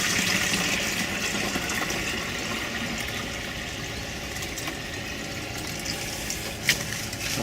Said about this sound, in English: you pour it into the sprinkling can easier